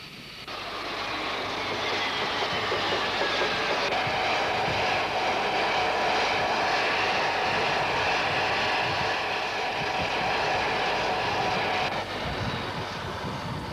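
A propeller or jet airliner arrives at the airport in The Gambia in 1990, a steady loud engine roar with a whining drone that fills the whole span without voices.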